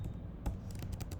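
A few quick, soft keystrokes click on a computer keyboard at close range, irregular and quiet, with no talking.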